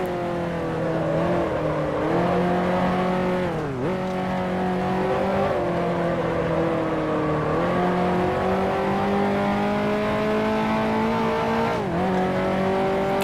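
A 1955 Formula One race car in the Grand Prix Legends sim screams loud and close, its engine note rising steadily through each gear and then dropping sharply at every upshift, three shifts in turn along a straight, with no talking.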